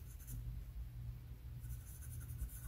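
Charcoal scratches lightly and softly across paper in short sketching strokes, faint and close, over a low background hum.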